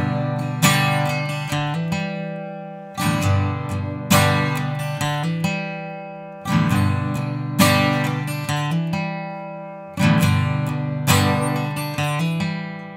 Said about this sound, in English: And then from there, play your open G string